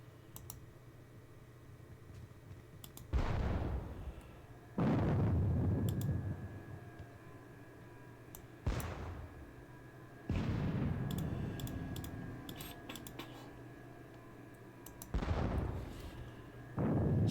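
Artillery guns fire in a Battle of Bautzen wargame, with five sharp, booming reports spaced a few seconds apart over faint clicking, each blast trailing off slowly.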